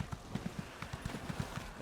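Horse hooves clip-clop in The Elder Scrolls Online, a brisk and even trotting rhythm of close, clear hoofbeats with no voices.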